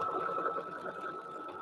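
An embroidery machine stitches out a mug rug with a steady, even mechanical whir at moderate volume, no voices.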